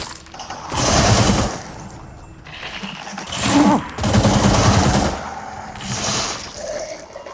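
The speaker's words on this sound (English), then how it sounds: "Something is shooting at me, throwing shit at me." Gunfire aimed at the player in the video game The Sinking City, heard as loud rapid bursts of rattling, noisy fire that surge and fade in several waves over a watery rumble.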